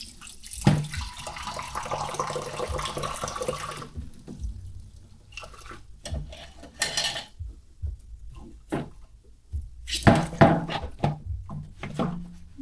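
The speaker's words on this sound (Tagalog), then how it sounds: "Hugasan natin yung plato guys kasi nga puro ano na, dumi na naman" Dishes and plates washed by hand in a Philippine countryside home: running tap water splashes steadily for a few seconds, then stops, followed by scattered clinks, knocks and wet handling of dishes at close range.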